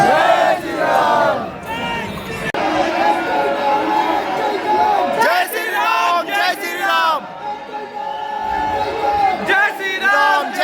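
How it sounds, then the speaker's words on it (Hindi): A large crowd of pilgrims at the Ayodhya temple chants loudly and continuously, many voices rising and falling together in repeated cries, close and dense throughout. "दोस्तों कितनी भीड़ है श्रद्धालुओं की।"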